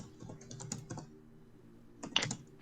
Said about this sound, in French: Xnox, arrête de casser ton clavier, mec.